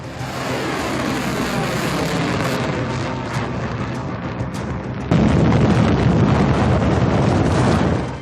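A North Korean missile launch: a sustained, loud roaring rush of rocket exhaust with wind-like buffeting, swelling abruptly louder partway through and holding steady to the end, with no voices.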